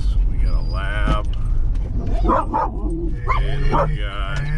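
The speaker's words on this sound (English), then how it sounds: "Look at all the puppies." Puppies, a lab among them, yip, whimper and bark in short high bursts at close range, mixed with people talking over them.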